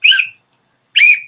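A referee's whistle blown twice in sharp, loud blasts, the first falling off after about a third of a second and the second held a little longer, with a tiny chirp between them.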